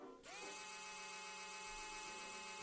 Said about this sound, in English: An electric toothbrush. Well, a modified electric toothbrush.